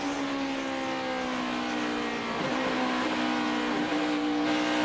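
NASCAR Sprint Cup stock car engines drone down the long straightaway at Pocono, a steady high whine with a faint pass swelling midway, continuous and without talk.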